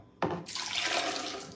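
A liquid poured into a container during a drink preparation, beginning with a sharp splash and settling into a steady, close-up trickling and gurgle that holds loud for about a second.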